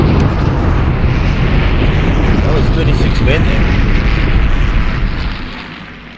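Dense, continuous rumbling barrage of explosions and booms from artillery and aircraft in the war game Panzer Campaigns Mius '43, loud and sustained before fading at the end, with a voice talking over it.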